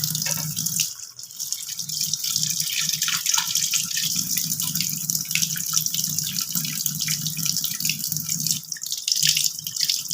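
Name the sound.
water dripping as boiled soybeans are squeezed by hand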